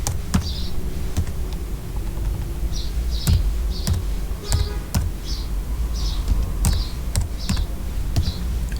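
Keys clatter on a computer keyboard while entering commands in Mathematica, ending with a Shift+Enter press: crisp, close taps arriving in an uneven rhythm of single strokes and short bursts, with no voices.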